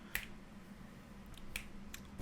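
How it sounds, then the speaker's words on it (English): Two crisp finger snaps, close and sharp, the second about a second and a half after the first, with a faint third snap-like click just after, over quiet room tone and no talking. "It made me snap my fingers."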